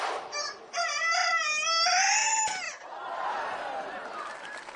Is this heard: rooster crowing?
yes